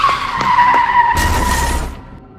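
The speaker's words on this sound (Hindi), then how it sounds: "गुल्ली एक गाड़ी से टकरा जाता है और वहीं गिरकर बेहोश हो जाता है" A car skids along a road in a cartoon, a loud tire squeal lasting about a second that breaks into a rough, noisy crash as it strikes an animated character, then fades out.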